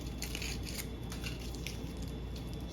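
Aluminum foil tears off the roll after being wrapped around a lab tube, giving crisp, crinkly rips in several close bursts over a constant low background hum.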